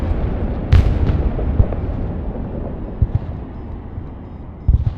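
Ballistic missile explosions in the video game Broken Arrow: a sequence of heavy booms and blasts, some nearer and louder, scattered over a rumbling battlefield background.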